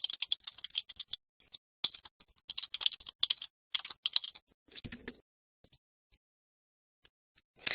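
Quick bursts of keystrokes on a computer keyboard as a comment is typed, clattering in uneven clusters for about five seconds, then trailing off into near silence with a few isolated taps.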